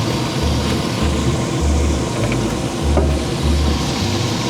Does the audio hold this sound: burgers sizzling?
yes